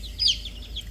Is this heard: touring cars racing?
no